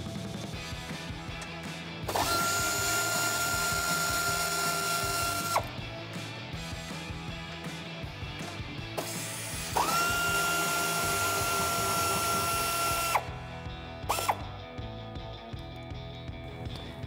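Power ratchet or impact tool spinning off the bolts that hold the rear bumper to its bracket on a Jeep Wrangler JL, two sustained whirring bursts of a few seconds each with a brief zip between them, close and loud, no talking.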